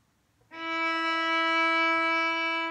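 A single sustained E note, fingered with the first finger on the D string, begins after a brief quiet moment and holds steady, clear and moderately loud, to the end.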